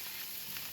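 An omelette with spaghetti and sardine fries in a pan, giving a soft, steady hiss that stays even and quiet through a brief moment, with no talking.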